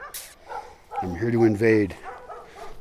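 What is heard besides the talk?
dogs barking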